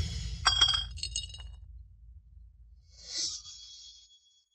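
A porcelain bottle filled with iron powder is tapped, giving a cluster of bright glassy clinks, a quiet pause, and then one softer ringing tap that fades out. There is no talking.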